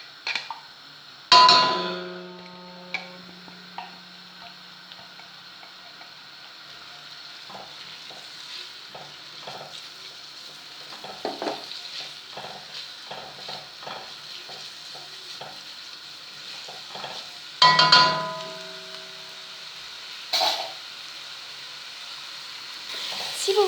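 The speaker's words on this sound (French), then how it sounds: "Je vais faire revenir mes oignons avec mes gousses d'ail hachées." Chopped onions and garlic cloves sautéing in hot oil in a cooking pot, a faint steady sizzle broken by sharp stirring clatters and two loud metallic knocks against the pot.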